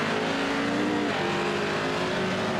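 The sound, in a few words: Pro 4 racing truck engine at Sonoma Raceway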